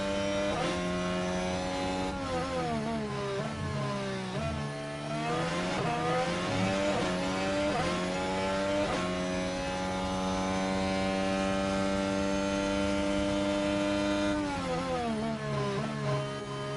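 Formula 1 cars racing at Imola in the video game F1 Manager 24, with a constant loud, high engine whine whose pitch rises and falls through gear changes, several cars layered together with no talking.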